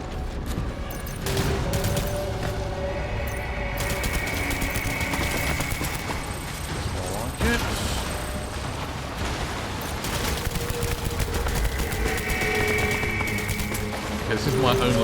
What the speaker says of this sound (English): This is my only level 3 assault rifle, so could do a bit more damage.